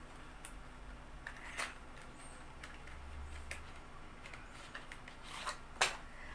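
Cathy Doll sunscreen packaging being opened by hand, with soft rustling, scattered crisp crinkles and a few sharp clicks and snaps, quiet and close.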